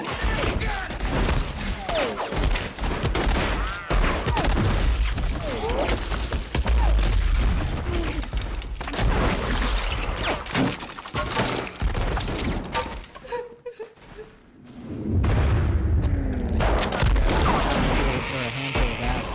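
Dense, loud movie-style gunfire effects in bursts like a fusillade, booming and shattering impacts over a shouting voice, with a brief lull before the barrage resumes.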